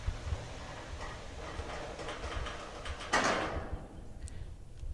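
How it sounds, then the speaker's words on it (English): A garage door slides down and seats against a brush seal, giving a soft continuous scraping rumble with a brief louder brushy swish near the end before it settles. "So as the door comes down, you can see the brushes seat tightly against the door, sealing it very neatly"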